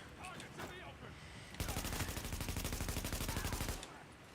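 Rapid automatic gunfire from a video game erupts in one sustained, evenly spaced burst of close, loud shots for about two seconds, preceded by quieter voice-like sounds and then cut off abruptly.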